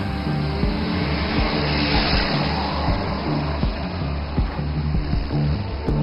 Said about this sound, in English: The wheels touch down and roll down the highway